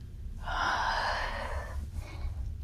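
A single long, steady exhalation during a yoga breathing exercise, close and breathy, rushing for over a second before tapering, followed by a faint softer breath, with no talk.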